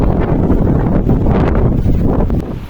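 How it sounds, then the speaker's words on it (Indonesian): Strong wind gusts buffet the microphone along the Mount Merbabu hiking trail, a dense, continuous low roar swelling and easing throughout, loud and close with no voices. "Angin dan debu ikut serta kami hingga membuat perjalanan sedikit terganggu."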